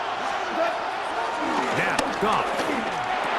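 Stadium crowd roars throughout a Madden NFL 26 football game late in the fourth quarter, a steady loud wash of cheering under a commentator's voice.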